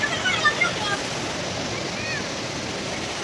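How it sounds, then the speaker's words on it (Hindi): A small waterfall on the Vaishno Devi pilgrimage trail sends up a steady broadband rush of falling water, continuous and fairly close, with faint voices at the start. "छोटा सा वाटरफॉल सा है, झरना"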